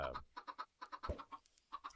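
Chickens in the Minecraft video game, a quick series of short clucks in a steady rhythmic string, close and fairly quiet, with no talk.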